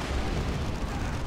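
A Baneblade super-heavy tank fires its lascannons and heavy bolters in the Dawn of War 2 strategy game, a loud, dense wall of booming and rumbling battle noise that stays steady through the brief moment.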